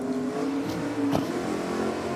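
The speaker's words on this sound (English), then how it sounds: "strong burnout from both the Centura and the Tirana" Drag cars, a Centura and a Tirana, roar through burnouts at a race track, a loud sustained engine note with harmonics and a sharp surge midway, close and without talk.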